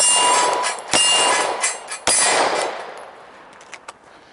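Two sharp metallic clangs from a Glock 17 pistol shot striking a steel target outdoors, each a bright ringing hit that decays over a second, with quieter trailing ticks afterward and no talking.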